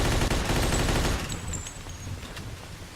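Rapid bursts of Thompson submachine gun fire in the Mafia 2 video game, a dense rattling volley at first that thins into scattered shots and faint pings, with no voices.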